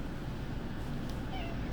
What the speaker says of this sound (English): He's a squeaky cat.